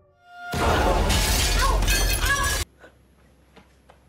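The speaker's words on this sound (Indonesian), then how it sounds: "Tantri sampai memecahkan kaca pintu rumah Arum hingga membuat tangannya terluka" Glass in a house door pane shatters loudly up close, a dense crash lasting about two seconds that cuts off abruptly, followed by faint scattered tinkles of falling shards.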